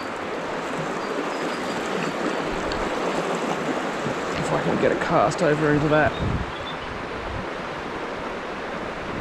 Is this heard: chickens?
no